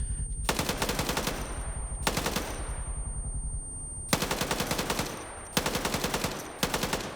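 Video game machine gun firing in long rapid bursts with short gaps between them, loud and dense, rattling close by with no voices.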